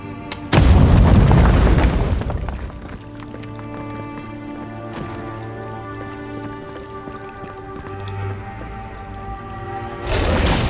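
A wall blows apart in the fantasy game Avowed with a loud, deep boom and a rumbling crumble that fades over about two seconds. Quieter game ambience follows, and a second heavy impact lands near the end.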